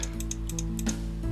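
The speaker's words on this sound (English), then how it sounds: "You hit the control key and V on the keyboard" Computer keyboard keys pressed in a quick burst, several sharp clicks in an uneven rhythm over a steady low hum, close and clear with no talking.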